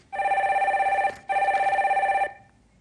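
A telephone rings for an incoming call on a Korean stock-market call-in broadcast, two loud, close electronic ring bursts separated by a short pause, with no voices over it.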